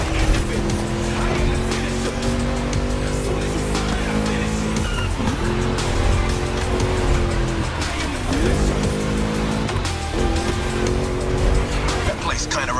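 V8 race car engine in The Crew Motorfest, revving and shifting through gears with tire squeal, loud and continuous while a voice speaks over it.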